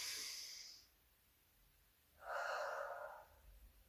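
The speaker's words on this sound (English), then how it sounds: "2 more of those deep breaths" Two deep breaths during a HIIT yoga session: a close, airy hissing inhale, a short pause, then a fuller, louder exhale, no speech.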